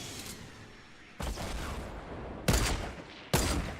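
Sniper rifle fire in Fortnite, with three sharp, loud shots spaced about a second apart, each followed by a ringing tail over a noisy game background.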